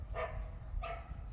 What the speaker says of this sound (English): Stupid dog.